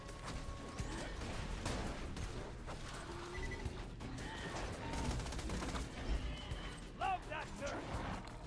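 Axton's turret firing in Borderlands 2, a dense run of gunfire bursts with crashes and impacts through the whole stretch, a voice talking over the game action.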